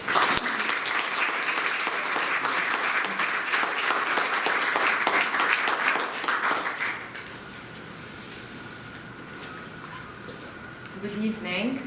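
An audience at an evening history lecture applauds to welcome a professor: dense, sustained clapping that fills the room for about seven seconds, then thins and fades while a voice begins speaking.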